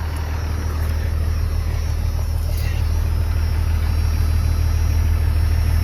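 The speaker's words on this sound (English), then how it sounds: "Sounds amazing with that turbo back 4-inch straight pipe." A first-generation Cummins turbo diesel idles through a 4-inch turbo-back straight pipe, a deep, steady, loud drone holding constant throughout.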